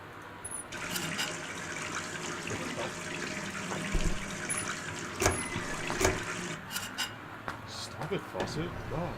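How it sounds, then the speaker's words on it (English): A running bathroom faucet in the game Gone Home, a steady close stream of water under a person talking, with occasional clicks and knocks. "Stop it, faucet."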